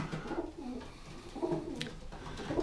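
White homing pigeons coo softly inside a loft, with repeated low throaty coos coming in a few short rhythmic phrases, fairly close and fairly quiet, with no talking.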